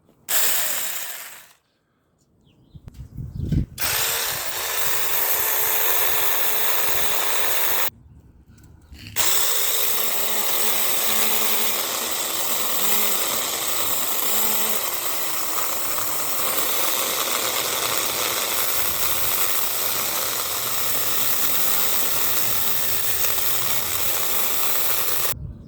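A small 6 inch chainsaw buzzes steadily at high revs while cutting olive tree branches outdoors, with two short pauses early on before a long continuous cut.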